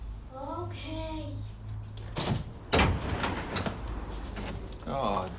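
A door opening and knocking in a domestic drama scene, a couple of sharp wooden thuds and a rattle mid-scene, with people talking around them.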